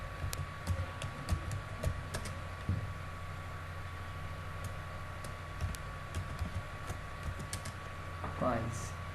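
A computer keyboard is tapped in scattered, irregular clicks that sound faint and close, over a steady low hum and background hiss, with a brief muffled rustle near the end.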